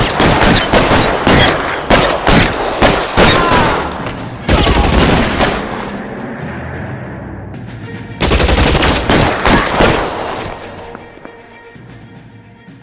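Rapid gunfire rattles through a bank shootout in the video game L.A. Noire, loud dense bursts of shots with short lulls between volleys and a final burst before it fades.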